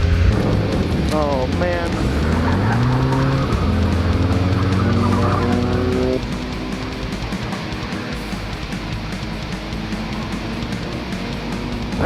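A race car engine at a night skid-plate race revs through rising, shifting tones before dropping into a lower, steady drone after a gear change, loud and close, with an excited voice over it.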